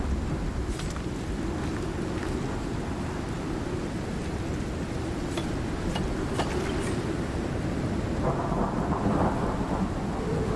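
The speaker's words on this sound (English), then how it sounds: "It's a long storm." A thunderstorm in the survival game Icarus roars with steady heavy rain and rumbling thunder, continuous and dense throughout with no voices.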